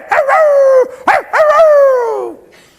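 A human voice imitates a dog with loud, close, drawn-out barking and howling yelps, about three sliding cries falling in pitch, alone with no talk.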